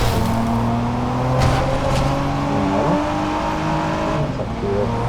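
A car engine in the racing video game Driver San Francisco revs hard and steadily, with its pitch sweeping up and down through burnouts and drifts, loud and close with no voices.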